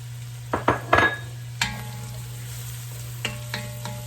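Mushrooms sizzle gently in a pot while a utensil stirs and scrapes, with a few sharp clacks early on and scattered softer scrapes over a steady low hum.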